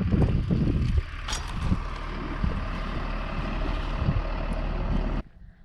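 A bicycle rolls down a short drop on a hill, with a loud, rough rumble of tyres and wind for about five seconds before it cuts off sharply into quiet.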